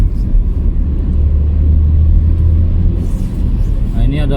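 A bus drives past on a street near Amstelveen station, a steady loud low engine rumble with broadband road noise that holds for several seconds and shifts slightly toward the end, heard up close.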